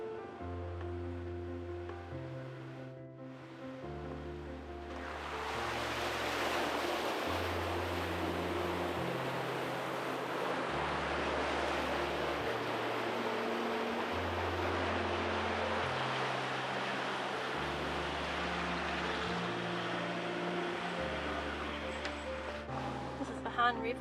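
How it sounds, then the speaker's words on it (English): A vehicle fords the Barnett River on the Gibb River Road in the Kimberley, a broad rushing wash of water swelling in and holding steady beneath background music. "This is the Barnett River we're about to cross."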